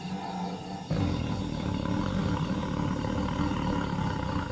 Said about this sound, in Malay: saya dengar raungan bunyi harimau cukup nyaring bersama tempikan sang gajah